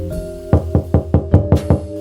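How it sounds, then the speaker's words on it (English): Knocking at a door, seven sharp raps in a steady, quick rhythm, close and loud over a faint sustained musical tone, with no voices. "I heard the knock at my door."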